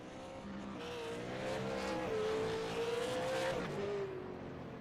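Race cars from the iRacing Limited Outlaw Super Series roar around the track in a sim race, a steady engine drone with a rising and falling pitch as cars hold speed and briefly ease off during a caution.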